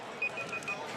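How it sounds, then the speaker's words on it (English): A kitchen timer goes off during a high school girls' basketball broadcast, sounding four short, evenly spaced high beeps over a steady background hum of the gym. "And my timer's going off."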